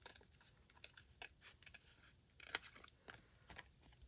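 Scissors snip through paper shapes for a theme park craft banner, close and fairly soft, in a string of short irregular crisp cuts with small pauses between them and no talking.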